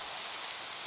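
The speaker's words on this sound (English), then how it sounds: "trust it to rain in the swamp" Steady rain falling in a swamp in Minecraft, a constant, even hiss of dense rainfall with no breaks and no talk.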